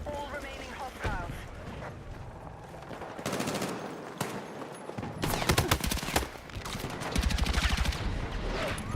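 Gunfire in the video game Battlefield 6, dense bursts of automatic fire and sharp shots layered over a steady battle din, with a voice talking over it now and then.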